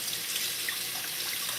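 Water streams steadily from a tap into a sink as raw chicken is washed for cooking, a continuous hissing rush with no talk over it.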